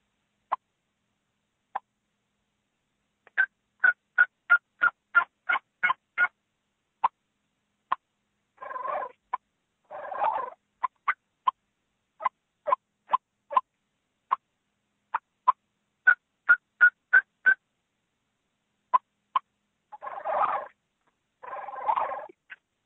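A turkey call worked by a champion caller imitates a wild turkey: soft rolling purrs and sharp clucks, then runs of plain yelps in rhythmic bursts, close and clear with no talking.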